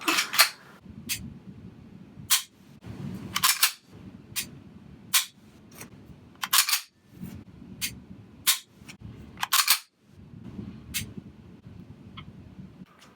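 A Heckler & Koch pistol's LEM trigger breaking and resetting gives sharp, isolated mechanical clicks at irregular intervals, about a dozen across the stretch, over a low steady background hum with no talking.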